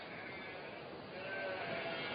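Sheep bleat faintly over steady background hiss on coastal South Australian pasture, a soft distant sound with little distinct shape.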